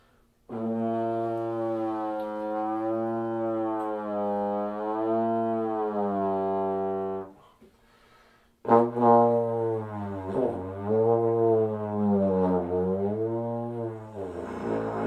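A deliberately nasal, pinched low B flat held on a brass or wind instrument in a university lesson setting, one long sustained note, then a pause and a second wavering note with slight pitch bends, loud and close.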